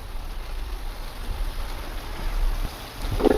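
Rain falls in a village with a soft, steady, moderately quiet hiss. A brief low thump breaks in near the end.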